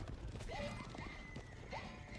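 Massed horse archers move across an Age of Empires 4 battle in a steady patter of clip-clopping hooves, with occasional neighs and whinnies over a busy game soundscape.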